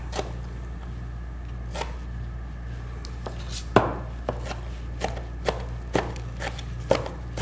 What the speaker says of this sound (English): make sure that you've got it chopped up really small